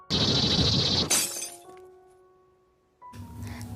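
A glass beer bottle shatters in the film Rubber, with a loud close burst of breaking glass followed by ringing tones and a fading tinkle of shards, then a low rumble resumes.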